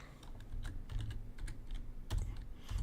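Fingers tap quickly and irregularly on a computer keyboard, a quiet, close clatter of keystrokes with brief pauses and no speech.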